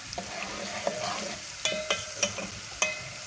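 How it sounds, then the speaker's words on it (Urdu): Garlic frying in hot oil in a pan for a Punjabi potato and fenugreek curry, a steady soft sizzle broken by several sharp clinks and scrapes of stirring, close and fairly quiet. "آئل گرم کرنا ہے، پھر لہسن ڈالنا ہے اور لہسن کو فرائی کرنا ہے"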